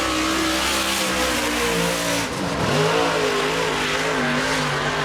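Race car number 26 on a qualifying lap, engine roaring loudly and steadily at high revs, pitch dipping briefly as it lifts for a corner, then climbing again, with no voices over it.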